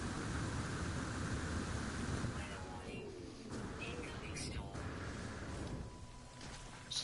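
A storm rolls in on an alien planet in No Man's Sky, with steady rain hissing throughout, a low rumble of thunder, and faint bird-like chirps and coos in the background.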